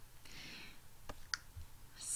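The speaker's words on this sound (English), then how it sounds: "I'm clicking on week 2" A computer mouse clicks a few times, with sharp, quiet, isolated clicks spaced apart against a near-silent background.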